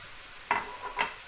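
Tomato dropping into a pan of slow-cooking mushrooms for pappardelle alla boscaiola, two short sizzling bursts over a low steady frying hiss.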